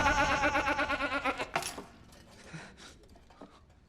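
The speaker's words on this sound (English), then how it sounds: "that sounded like an actual goat noise and not just like a goat impression" A goat bleat, a loud wavering nasal cry with a rapid pulsing tremolo lasting about a second and a half, then fading into quieter scattered clicks and rustles.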